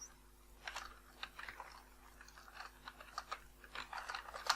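Quick, uneven clatter of a computer keyboard as text is typed into a Microsoft Word 2010 form, close and moderately loud bursts of keystrokes with no voice.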